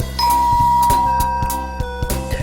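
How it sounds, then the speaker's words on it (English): In the video game Sepia Tears, a doorbell chimes with a sustained ringing tone over a dense, loud background of game music and repeated rhythmic thumps. "The bell rings and no one answers."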